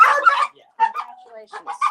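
A dog barks and yips in short bursts while a puppy is brought out nearby at a foster and rescue intake, with people talking around it.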